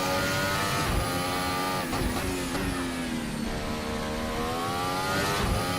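A Formula Hybrid race car accelerates hard through the gears, its loud engine whine climbing in pitch, dropping briefly at each shift and rising again, continuous and close throughout.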